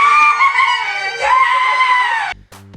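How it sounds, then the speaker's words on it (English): A man screams wildly and excitedly in celebration of the 2018 World Cup, one long loud sustained cry lasting over two seconds and then cutting off abruptly. "Me screaming like a nut job."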